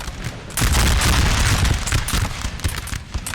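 A musket volley in the Napoleonic Total War 3 game erupts as a loud, dense crackle of many shots fired together, holding as a sustained rumbling roar after a brief quieter lead-in.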